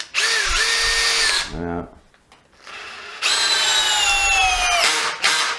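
A 12V cordless drill, a Makita DF032D or Milwaukee M12, drives with a loud whining motor, stalls and ratchets briefly, pauses, then runs again at full speed before a short stop and restart; someone speaks briefly.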